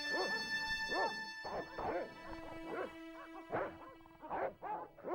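Game dogs in Broken Sword: Shadow of the Templars bark repeatedly in steady, close bursts of about one per half-second, with yips mixed in, over a soft sustained musical drone.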